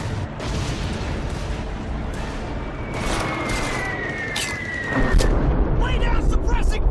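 Gunfire and artillery in an Xbox 360 video game battle: dense, continuous rumbling fire with sharp cracks and a whistling streak, loud and steady, with a louder burst near the end and shouted voices underneath.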